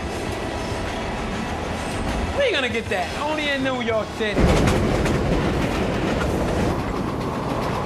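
A New York City subway train rumbles past with a steady rolling roar, high metallic wheel squeals rising midway, loud and close, while someone talks over it.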